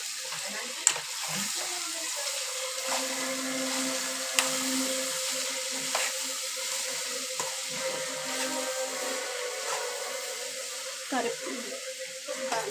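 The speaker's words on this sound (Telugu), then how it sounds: "ఇప్పుడు రుచికి తగినంత కారం పొడి, పసుపు, ఉప్పు వేసి కలబెట్టాలి" Chili powder, turmeric and salt being stirred into a bitter gourd curry in a hot pan, a steady close sizzle with occasional scraping stir strokes and small taps throughout.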